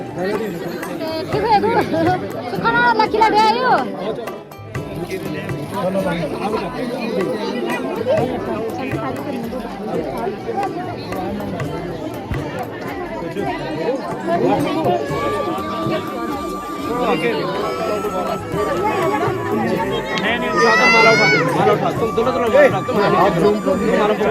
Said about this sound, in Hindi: यहाँ पे इतनी ज़्यादा भीड़ हो रखी है भाई, ये देखो